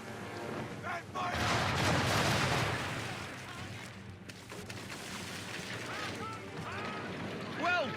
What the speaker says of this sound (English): all guns are on target, call fire. Round shot for a start.